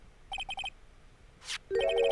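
A cell phone in the Ace Attorney game sounds two short bursts of rapid chirping rings. A brief whoosh comes between them, and a louder ringtone phrase follows.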